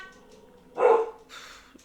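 A single dog bark sounds once in a quiet room, short and moderately close, with a softer yip-like sound following and faint voices around it.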